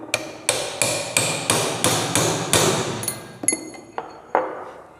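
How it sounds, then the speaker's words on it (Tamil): Sharp metal hammer blows on a punch tightening a sewing machine's top mounting, about eight evenly spaced ringing strikes followed by a few lighter taps and clinks, close and alone. "இந்த கூர்மையான பஞ்சை வச்சு நம்ம பழையபடி டைட் வச்சுக்கிடுவோம்."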